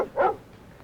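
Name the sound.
dog barking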